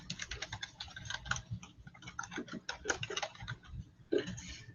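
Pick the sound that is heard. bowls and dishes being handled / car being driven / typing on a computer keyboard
typing on a computer keyboard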